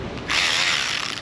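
An electric ratchet whirs loudly and steadily up close in a short burst after a brief lower hum.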